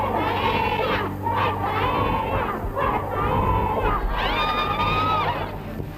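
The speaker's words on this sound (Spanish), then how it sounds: "Llevan aquí casi media hora gritando consignas a favor de su comandante en jefe" Outside the Defence Ministry in Chile, a crowd of officers' wives, daughters and mothers shouts slogans for the Air Force commander-in-chief, a loud, sustained chorus of rhythmic chanting and high cries, dense and near.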